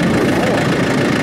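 A farm tractor idles steadily nearby, a continuous low mechanical drone with a slight knocking texture, running alone without talk.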